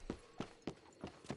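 Horse hooves clip-clop in a steady, evenly spaced rhythm of five sharp strikes in Red Dead Online, close and clear with no talk over them.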